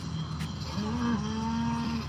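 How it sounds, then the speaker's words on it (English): A cow moos in a long, drawn-out bellow that rises and holds, loud and close, with no talking over it, played as a sound effect. "I can hear a cow."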